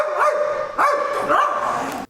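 A dog barks in the video game Call of Duty Ghosts, giving three short, sharp barks spaced about half a second apart, close and fairly loud over a steady background hum.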